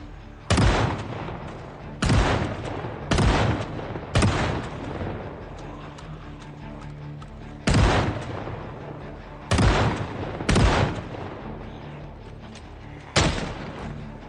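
Heavy shotgun blasts in Project Zomboid, about eight loud, sharp booms at irregular intervals, each with a short decaying tail, between quieter ambient stretches.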